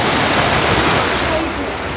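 Floodwater roars through a street in Junagadh in a loud, dense, continuous rush with no breaks, easing only slightly toward the end.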